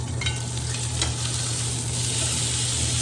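A ribeye steak sears in a hot pan, a steady dense sizzle and crackle close up, with no voices.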